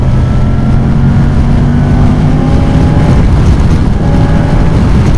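A 2024 Moto Guzzi Stelvio motorcycle accelerates in sport mode, its engine a loud, continuous roar mixed with heavy wind rush that holds steady throughout without pause or talk.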